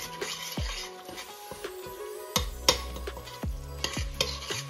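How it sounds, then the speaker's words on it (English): A spoon stirs mushroom tomato sauce in a pan, scraping and knocking in several irregular strokes over a soft steady sizzle, close and quiet. "Gonna stir that up. We're gonna get those mushrooms or those tomatoes to start breaking up in there."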